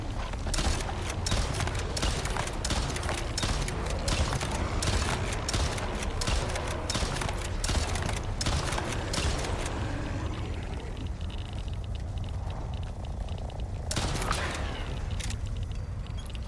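Gunfire from a 12-round magazine weapon in the Icarus survival video game: loud, fast repeated shots for about ten seconds, then a brief lull and a few final shots near the end.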